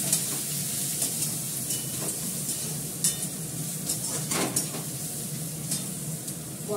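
Carrot frying in a pan with a steady close sizzle, broken by occasional scraping stirs and clinks of a utensil against the pan.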